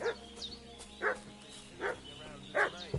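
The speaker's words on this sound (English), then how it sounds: "What's that dog making such a fuss about?" A dog barks several times in the medieval video game Kingdom Come: Deliverance II, short spaced yelps at moderate distance over a quiet ambient game background.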